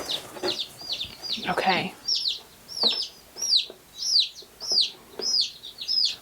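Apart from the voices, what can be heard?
chicks in a chicken flock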